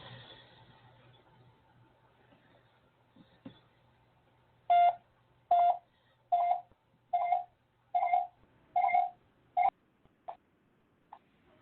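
A telephone's keypad tones sound while calling in to an online radio show: faint line hiss, then a series of about eight evenly spaced dialing beeps followed by a few softer blips, with no talking.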